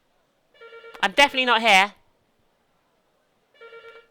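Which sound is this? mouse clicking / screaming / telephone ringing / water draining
telephone ringing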